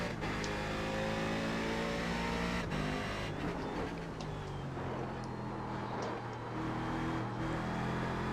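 Race car engine in the video game iRacing, loud and continuous, revving up through long gears with rising pitch and brief dips at shifts, pulling hard uphill without pause.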